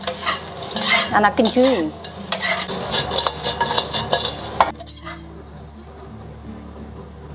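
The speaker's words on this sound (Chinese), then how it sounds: "这个时候我们就把这个椒盐边倒的时候边搅拌" Stir-frying in a wok as salt-and-pepper seasoning is poured over the chopped side vegetables: steady sizzling with busy spatula scrapes and clinks, then the cooking dies down to a quieter hiss near the end, with a brief voice speaking.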